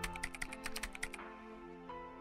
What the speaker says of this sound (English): She sure is clocking away on that keyboard